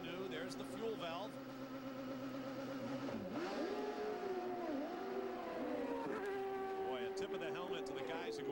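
A CART race car at the 1997 Grand Prix of Monterey at Laguna Seca roars out of the pits onto the track, with engine pitch sweeping up through the gears, loud and continuous, while a commentator talks over it.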